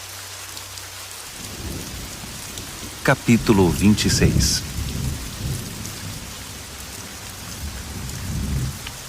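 Steady rain falls throughout with a low rumble of thunder and denser patter, while a voice speaks briefly over it partway through.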